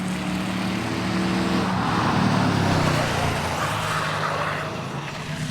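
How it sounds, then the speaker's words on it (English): A Ford Crown Victoria drifts at full throttle on a track, its engine a loud, sustained roar with tire noise that swells and then eases as the car moves off. "He is literally maxing out that Crown Vic."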